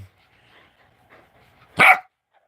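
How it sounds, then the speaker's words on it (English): A puppy gives one loud, sharp bark up close, with quiet room sounds before and after. "Oh, she talking. That puppy talking."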